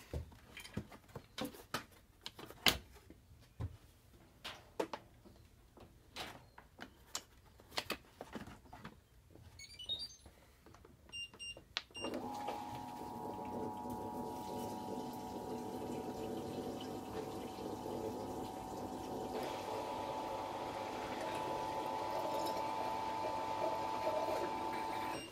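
A Fisher Paykel Smart Drive washing machine set to drain: scattered clicks and knocks at first, then a steady humming pump with running water that holds on evenly to the end.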